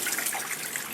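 A faucet pours a steady, fanning stream of tap water, a continuous close hiss and splash filling the whole moment without any voices.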